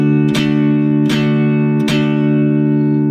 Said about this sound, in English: I'll mute the high E string by putting my finger against that